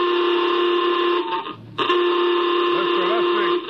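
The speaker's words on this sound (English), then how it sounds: "Masters, sound general quarters." General quarters alarm aboard a spaceship in a radio drama, a loud sustained electronic buzzing tone that briefly drops out mid-way and resumes, with a voice faintly underneath.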